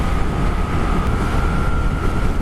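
A Moto Guzzi V7 II classic motorcycle cruising at speed on a highway, heard as a steady loud engine drone and wind roar with a faint constant whine and no talking.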